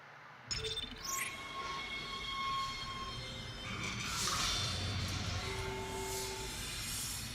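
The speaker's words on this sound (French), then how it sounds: "Donc je vais prendre le tram." A tram in the Dead Space video game starts up and travels along with a steady mechanical rumble and hiss, rising whines and tonal hums over a constant rolling drone after a brief quiet opening.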